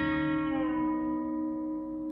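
A B-bender guitar rings a sustained note while the open B string is picked and the bender is released, the pitch sliding gently downward as the tone slowly fades.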